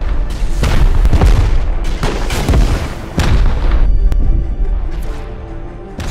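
Rocket launcher blasts pound away in the survival video game Rust, a rapid string of heavy booming explosions that overlap into a loud, continuous barrage, close and relentless with no voices.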